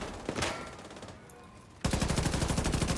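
Rapid automatic gunfire in a shooting video game: a burst of shots, a brief lull, then a sustained, evenly spaced stream of loud rounds.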